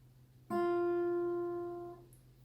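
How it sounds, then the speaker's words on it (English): A single clean guitar note, the first string at the first fret, is plucked once and rings out, slowly fading over about a second and a half against a quiet low hum. "let's play the first string with the first fret. It should sound like this."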